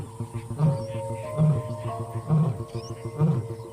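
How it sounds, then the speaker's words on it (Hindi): Axel, the male lion leading his pride, gives a series of deep rhythmic grunting roars, about one a second, carrying through the jungle under a faint background tone and a low voice. "एक्सेल की दहाड़ पूरे जंगल में ये साफ संदेश भेज देती है कि ये इलाका इनका है"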